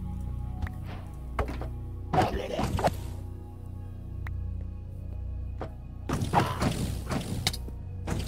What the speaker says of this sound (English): I'm going to dig my way through this wall and attack it